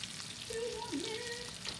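Cauliflower sizzles in a hot pan while charring, a steady close frying hiss with a faint tonal whine running through it, no talking.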